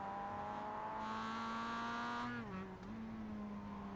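A Mazda MX-5 race car's engine drones steadily at high revs, then drops in pitch with a quick blip as it downshifts to first gear before holding a lower, steady note, close and loud.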